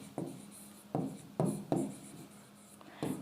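A pen scratches across paper in a handful of short strokes, about six separate bursts of scribbling at an uneven pace, close and quiet with no voices.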